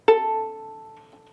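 A bowed viola open A string rings out, starting with a sharp attack, then sustaining and slowly fading; a single bright, clear pitch.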